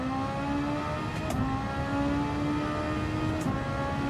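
Race car engine in the Gran Turismo 7 video game, a steady droning whine holding at a fairly constant pitch with slight shifts, quiet and continuous throughout.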